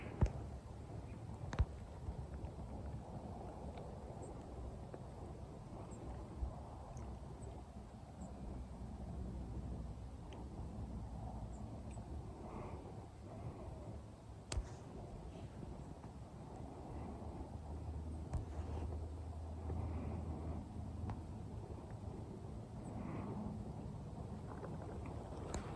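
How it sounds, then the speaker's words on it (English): Steady outdoor wind rushing and buffeting against a microphone, a low continuous roar with occasional gusts and bumps, alone without talk. "There's our wind."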